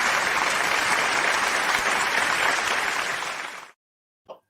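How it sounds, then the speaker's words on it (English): Full, dense applause from a group, steady and fairly close for several seconds, then it cuts off abruptly into silence, followed by one small isolated tap. "No, I'll applaud you guys back."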